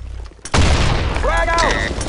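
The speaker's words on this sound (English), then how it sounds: "Grenade up front. Frag out. Fire away. Grenade up front. Fire in the hole." A grenade blast in the Blackshot shooter game: a sudden loud boom hits about half a second in and rolls into a sustained, noisy rumble, with synthesized radio-style voice callouts layered over it.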